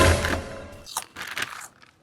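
Loud, dense crunching of a crunchy snack being bitten and chewed up close, a heavy burst at first followed by a few softer crunches that fade away.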